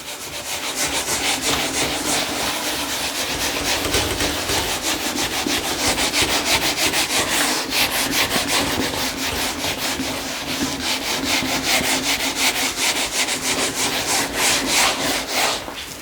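A duster rubs writing off a classroom board in steady, rapid back-and-forth strokes. The scrubbing is loud and close and goes on continuously with no talk.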